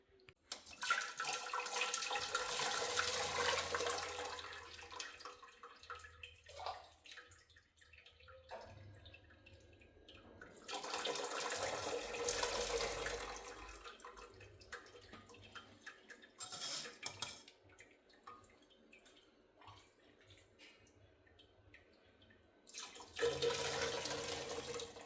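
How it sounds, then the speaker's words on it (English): Homemade chicken stock poured through a strainer, a steady liquid splashing and trickling in bursts with brief pauses and small clinks of a pot or bowl, close and fairly loud, no talk. "So let's get that stock strained."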